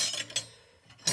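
Air Ministry cutlery dated 1961 handled indoors, a few quick faint metallic clinks, one near the start, one just after, and another at the end, with quiet gaps between.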